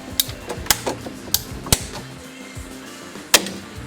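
PVC pipe for aquarium plumbing being cut, heard as a series of crisp, uneven mechanical clicks and snaps, close and fairly loud, with a final sharp crack after a short pause and no talking.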